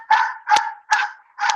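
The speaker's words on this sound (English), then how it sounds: "Cue the dogs." Four loud, close dog barks in an even rhythm, each a sharp burst with a short tail, separated by brief silences and with no talking.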